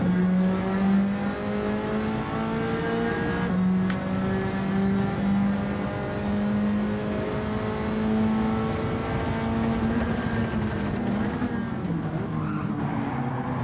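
Race car engines in Gran Turismo 7 drone and rev steadily through a seven-lap sprint race, with a lead engine's pitch climbing and dropping through gear shifts and other cars whining alongside.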